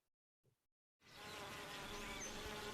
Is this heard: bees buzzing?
yes